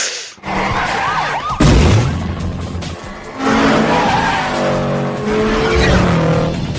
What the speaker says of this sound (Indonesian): polisi-polisi tersebut pun mengejar mereka dan adegan balap liar pun terjadi